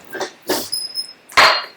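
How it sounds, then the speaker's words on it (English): Dogs being let in at a house with three dogs give several short, sharp barks and yelps in separate bursts, close and fairly loud, without talk. "I just have to let the other 2 dogs in, which means I have to protect the mutt."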